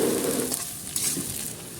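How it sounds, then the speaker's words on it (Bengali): Potatoes frying in oil with browned onions hiss in a pan, a soft steady sizzle close by with a couple of faint stirring scrapes and no talk. "পেঁয়াজটা লাল লাল হওয়ার পরে আলুটা দিয়ে দিয়েছি, যে আলুটা ভেজে নিচ্ছে একটু"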